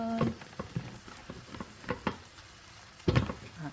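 Beef and frozen mixed vegetables stir-fry in seasoning with a light sizzle, broken by several sharp clacks and scrapes of a utensil against the pan at irregular intervals.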